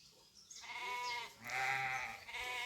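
Sheep kept by Gaddi herders bleat in a Himachal Pradesh village, two drawn-out wavering calls at moderate distance, one after the other.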